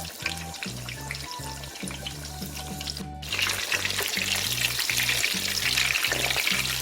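Pork cutlet sizzles and crackles steadily as it deep-fries in hot oil, the frying growing louder and brighter midway, with faint clinks over a low rhythmic hum.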